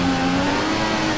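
F1 2014 video game cars revving together at the start of the Australian Grand Prix, a dense, steady engine roar filling the whole moment without a break.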